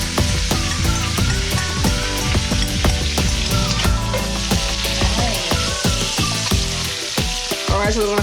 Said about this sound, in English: we're going to add the natural seasoning to the oil and allow that to saute for a little while